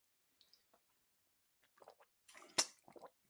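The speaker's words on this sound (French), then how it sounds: "Petite gorgée d'eau." A small sip of water taken at close range: a few faint mouth clicks, then a quick wet slurping gulp with a sharp burst and soft swallowing noises, otherwise quiet.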